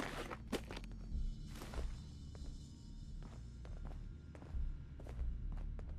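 Footsteps in the video game Fallout 4, a steady run of soft thudding steps over a low ambient hum, with a few louder heavier footfalls standing out.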